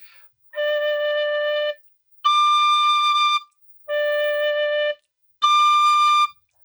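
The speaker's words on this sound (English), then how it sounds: "So I'm going to play the notes in the first octave and the second octave. So D." Tin whistle sounding the note D in the first octave and then the second octave, four clear sustained tones alternating low and high, each about a second long with short silences between, close and loud with no talking.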